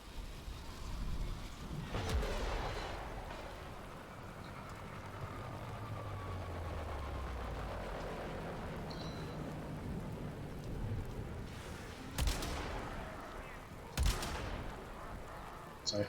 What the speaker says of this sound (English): So I totally missed some shots